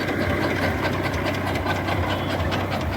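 A tractor engine running in a potato field, a loud, continuous rumbling drone with a steady throb, close by and unbroken, with no voices over it.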